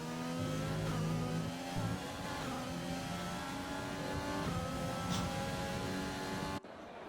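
Race cars from an F1 video game, on track at Brazil, droning steadily with layered engine tones that rise and fall as they rev, loud and continuous, cutting off abruptly near the end.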